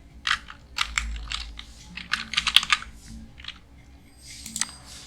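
Quick bursts of typing on a computer keyboard, a word keyed in with irregular clicks and a faint low hum underneath, no talking.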